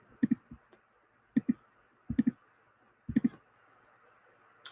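Mouse clicks in a physics collision simulation program, sharp and close, coming in small clusters of two or three about once a second over quiet room noise.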